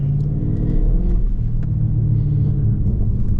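A Dodge Charger Scat Pack on wet downtown streets in the rain, its engine a steady, heavy low rumble with slight rises in revs, close and continuous.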